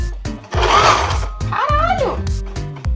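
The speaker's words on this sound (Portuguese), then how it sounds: "E foi aqui que eu quase queimei a minha máquina de costura." A 110-volt domestic sewing machine plugged into 220 volts, whirring loud and strained in a short sustained burst, then a rising, wavering whine, with thumps and brief voices around it.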